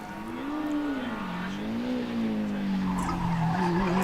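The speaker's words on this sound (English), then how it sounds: "John Sharples really pushing that car and sliding the car around in the top of the hill" A race car at the Loton Park hillclimb howls through its revs with a wavering engine pitch as it slides, loud and continuous over roughly four seconds, no talk heard.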